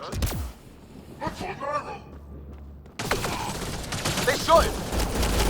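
Bursts of sci-fi gunfire from the Mass Effect Andromeda video game, starting quietly and swelling into a louder firefight in the second half, with scattered shots and thuds mixed with game ambience.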